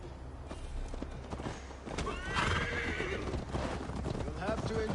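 Horse in Assassin's Creed Valhalla neighs in a clear, rising whinny while hooves clip-clop steadily at close range, with game speech and ambient sound underneath.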